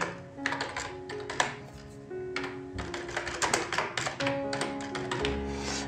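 Keys tapped on a computer keyboard while entering charges into accounting software, a close, uneven patter of clicks in quick bursts with short pauses and a faint background hum.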